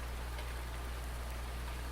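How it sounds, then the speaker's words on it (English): Steady rain falls in Farming Simulator 19 on console, an even hiss of rain that does not let up, faint and with no talking. "I guess the rain's not really messing it up."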